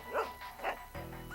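Dog Pepita in the video game Trauma Center New Blood gives two short woofy barks, then a brief whimpery yip over a soft steady background tone.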